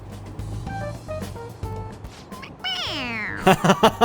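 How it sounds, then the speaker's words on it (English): A stuffed animal toy in Persona 5 Royal meows when its head is pressed, a drawn-out electronic meow followed by several short chirpy squeaks, heard alone over soft game music. "It meows when you press on its head."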